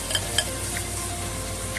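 Beef karahi sizzles and fries steadily in the pot as yakhni stock is stirred in, with a continuous close frying hiss and a couple of light stirring clinks near the start.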